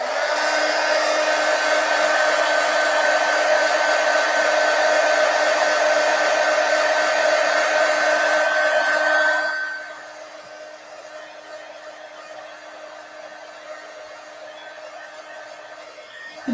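A hair dryer blows steadily and loudly over a painted coloring page, then drops to a softer, lower setting for the final stretch, still running continuously.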